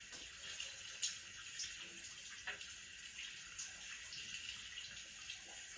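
A shower runs in a scene from the Thai series Manner of Death, episode 10, as a steady, faint hiss of spraying water with small splashes and drips throughout, and no speech.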